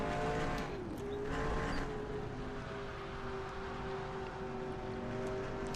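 Race car engines in NASCAR Racing 2003 rumble together at a green flag start, a dense sustained drone with rising pitches as cars accelerate, some tire squeal mixed in, steady and moderately loud without talk.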